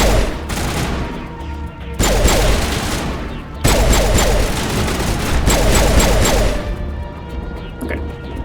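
Sustained bursts of rapid automatic gunfire from an overheating gun in the Mass Effect video game, loud and dense, cutting off briefly and resuming in several long volleys.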